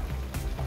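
Chop suey frying in a pan, a steady close sizzle with brief stirring scrapes and no one talking.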